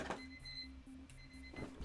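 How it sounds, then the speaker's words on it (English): Desk timer going off, a faint repeating electronic beep pattern of short tones pulsing in a steady rhythm. "I did not realize I had that timer running"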